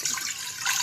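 Water is poured into a pan to make kahwa, a steady hissing splash that holds roughly level throughout, close by and alone without talk.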